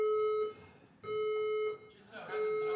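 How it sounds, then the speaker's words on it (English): A building fire alarm sounds a steady electronic tone in loud bursts, broken by short gaps, with voices underneath. "The final alarm system has operated."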